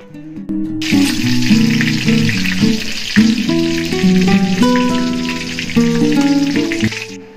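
Potato pieces fry in hot oil for a potol korma, producing a loud, close, steady sizzle with crackles, accompanied by background music.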